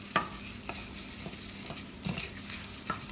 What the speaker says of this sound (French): on met le riz dans l'huile avec l'échalote. C'est ce qu'on appelle une cuisson pilaf